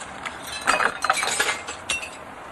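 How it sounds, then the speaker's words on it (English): Old glass being pulled from a window frame, with a short run of clinks and chinks of broken glass panes close by, clattering briefly and then stopping. "then off we go and pull out all that glass"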